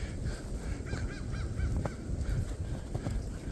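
A crow caws several times out in the woods of a hunting area, harsh repeated calls in a short series, moderately distant over outdoor background noise.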